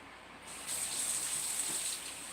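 Tap water runs steadily into a kitchen sink while fresh broccoli from the store is rinsed, a soft continuous gush that swells louder after a brief start and carries on alone without talk.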